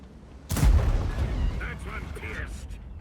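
Tank cannon firing in War Thunder, an E 100 heavy tank: a single loud, heavy boom with a long rumbling tail, followed by faint game interface chimes.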